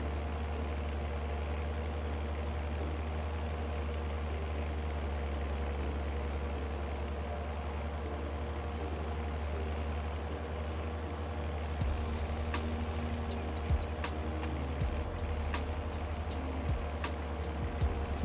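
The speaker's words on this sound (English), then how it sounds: "Nice tractor. I do like this Deutz. This is a cracking little tractor, actually." A Deutz tractor engine in Farming Simulator idles steadily with a low, continuous rumble, joined near the end by a few sharp clicks and small clunks.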